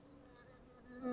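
Honey bees buzzing faintly and briefly around a custom flow super on a Keeper's hive during honey harvesting, a soft steady hum that swells slightly at the end.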